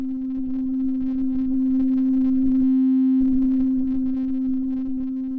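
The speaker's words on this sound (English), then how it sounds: "listen to what happens when I hold down C and I kind of cycle through the position of the wavetable" A synth holds a steady C note while its wavetable position is swept, giving a continuous tone with subtle shifting timbre and a brief thinning midway, alone with no talking.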